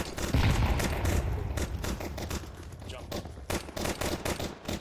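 Rapid gunfire during a Counter-Strike match, dense bursts and single cracks of shots crowding one another with close, loud impacts, some overlapping into automatic fire, speech faintly mixed in.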